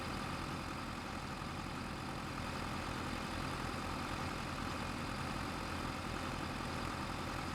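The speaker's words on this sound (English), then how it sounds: "I've been wanting to use this tractor for a while." A Ford tractor engine idles steadily in a video game, a continuous low rumble with a constant hum, close and unchanging throughout.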